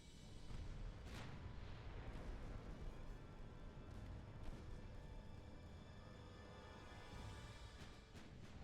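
Naval main guns firing on a heavy cruiser in the warship game Ultimate Admiral Dreadnoughts, a steady low rumble of distant gunfire with a few soft booms, muffled and continuous rather than sharp.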